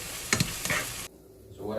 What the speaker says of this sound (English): So we have our seasonings in there. That's sauteing.